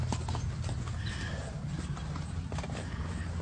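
Horses walking at a steady pace, hooves clip-clopping in a close, continuous rhythm, with a deer strutting among the herd.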